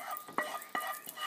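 A spoon scrapes and clinks through lentils in a pot, two or three quick close stirring strokes over a soft simmering hiss, with no talk.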